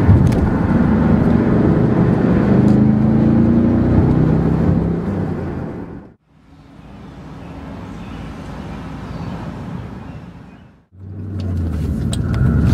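A Pontiac GTO pulls hard in a high gear, its deep engine rumble loud and sustained, with two brief drops in sound around the gear changes before the heavy drone returns.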